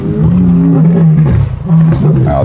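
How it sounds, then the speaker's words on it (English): Two male lions roar on safari, deep, loud and close, in long drawn groaning calls over faint background noise, with a voice partly mixed in. "I can hear both males roaring."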